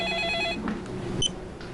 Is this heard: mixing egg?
no